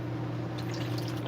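Water is poured into flax seed, a short liquid splash and trickle over a steady low hum, close and fairly quiet.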